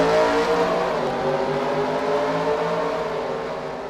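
IndyCar race cars in a video game accelerating together off the start at Sonoma, a loud, steady, close-up roar of many engines blending into a continuous rising drone.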